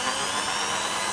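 A J.LD 13mm electric drill fitted with a 6.5 mm bit, spinning at low speed with a steady, even whirring motor hum, close and constant throughout.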